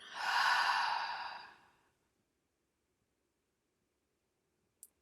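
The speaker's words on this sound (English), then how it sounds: "Deep breath out." A long, deep exhale during a vinyasa yoga session, a breathy whoosh lasting almost two seconds that fades into quiet, followed by a faint tiny click.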